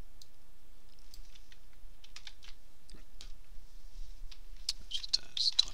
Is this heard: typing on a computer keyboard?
yes